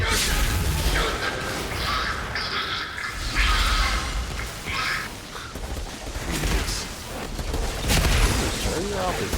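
Gunfire in the video game Outriders: repeated bursts of shots and booms come in waves over several seconds, mixed with shouting voices and a busy, chaotic combat din.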